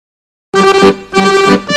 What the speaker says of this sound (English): their modem answers